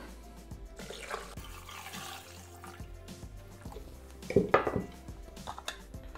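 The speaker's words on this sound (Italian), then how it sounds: "Aggiungiamo l'acqua." Water pours into a Thermomix TM6 mixing bowl while pasta cooks, a steady splashing gush that swells in a louder burst near the end amid faint clinks of kitchen utensils.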